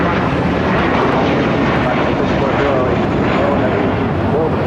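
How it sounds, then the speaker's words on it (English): An American Airlines A321 jet takes off from runway 25 right at LAX, with a loud, continuous broadband engine roar that holds steady throughout, close and dominant with no pauses. "American A321 now taking off on 25 right."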